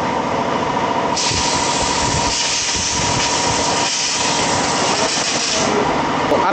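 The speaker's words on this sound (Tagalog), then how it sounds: "Ang susunod naman pong gagawin ni Sir ay papahanginan niya na po itong ating carburetor." Compressed air blasts through a Honda Supremo 150 motorcycle carburetor during a cleaning service, giving a loud, sustained hiss that holds for several seconds before cutting off, close to the microphone.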